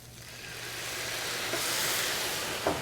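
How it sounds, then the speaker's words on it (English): Brandy hitting a hot pan of lobster shells and vegetables sets off a loud, broad hiss that swells and holds steady, with a couple of sharp crackles near the end and no talking. "So now I'm going to do a deglaze with brandy."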